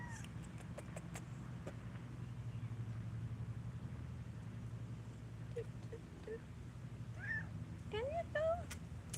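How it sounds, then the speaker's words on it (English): A cat meows a few short times near the end, outdoors by a swamp garden, over a low steady engine-like hum with scattered clicks and some talk. "She is our swamp cat."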